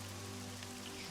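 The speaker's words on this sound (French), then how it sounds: "il y a toujours ce ruissellement régulier qui vient noyer vos pas" Steady rain trickling and pattering through a forest, a constant dense wash of drops with low hum beneath, even and unbroken throughout.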